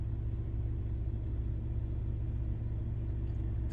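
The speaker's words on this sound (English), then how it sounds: "He's reversing his truck." A semi truck, an 18-wheeler, reversing nearby with a steady low engine rumble that holds constant throughout, no voices and no warning beeps.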